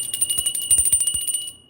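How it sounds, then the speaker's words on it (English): A small bell is rung rapidly, producing a bright, sustained ringing tone with quick repeated strikes that fades out after about a second and a half, heard close and alone. "I'm going to ring the bell."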